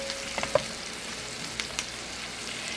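Chopped vegetables for spaghetti sauce sizzle steadily in a pan, a soft continuous frying hiss with a few faint clicks of stirring and no talking.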